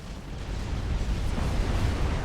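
Artillery pounds away in the real-time strategy game Supreme Commander, a dense, continuous roar of overlapping booming blasts that stays loud and rumbling throughout.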